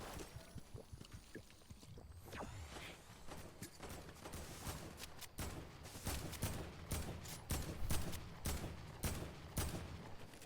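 Rapid bursts of gunfire in the battle royale game Fortnite, dense crackling shots that grow busier and louder toward the end, with no talk over them.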